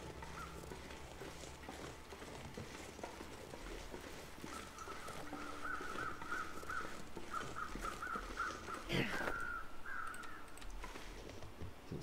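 Crows caw in The Long Dark, a snowy wilderness survival game, as a faint series of harsh calls over a steady low ambient hiss, with no talking.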